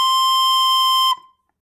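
A single sustained recorder note B played by a beginner, steady and clear for about a second before stopping abruptly, alone with no talking.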